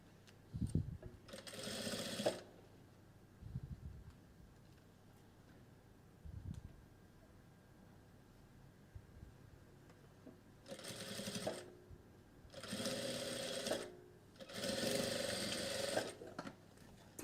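A domestic sewing machine runs in several short bursts while stitching a bustier seam. Its steady mechanical whir stops and starts, with quiet handling noises and pauses between runs.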